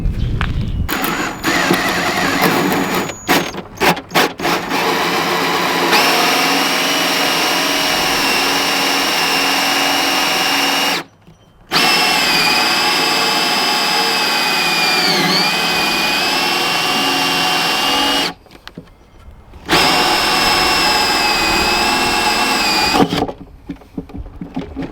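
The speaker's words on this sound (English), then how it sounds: "So let's get our hole drilled." A power drill drives a 1 1/8 inch hole saw through a wooden box for a honeybee swarm trap, whining loud and steady with a grinding edge and stopping briefly twice before resuming.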